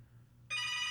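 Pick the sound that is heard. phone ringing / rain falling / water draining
phone ringing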